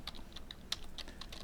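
Typing on a computer keyboard: a quick, steady run of light, close key clicks at a brisk rhythm, with one slightly harder keystroke, over faint background hum.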